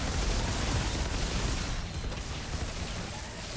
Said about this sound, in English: They're just slowly exploding.